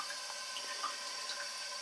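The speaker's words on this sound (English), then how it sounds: "it's not as fierce as a full boil will be, but early days yet" Homebrew wort heating toward a boil gives a steady, faint bubbling hiss with scattered small pops, even and unbroken with no talk.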